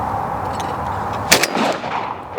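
Single loud shot from a semi-automatic shotgun during clay shooting, a sharp broadband crack near the middle followed by a brief echoing tail over steady outdoor background noise.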